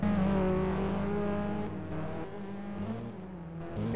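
A racing car engine revs hard and accelerates, loud and close, with a steady rising drone that dips briefly mid-way before pulling again.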